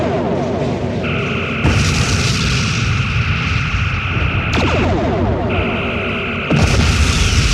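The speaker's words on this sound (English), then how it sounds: "Target the escort ship. Phasers and photon torpedoes. Make it go away." Starship phaser beams and photon torpedoes strike an escort ship in a game battle, with sustained whining beam tones, booming impacts and sharp bursts of sci-fi weapon fire, loud and close.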